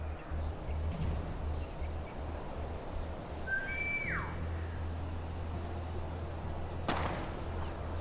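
A whistle in a World War Two stealth tactics video game, a single short rising-then-falling tone, faint over a steady low ambient hum and noisy background, followed by a brief soft thud.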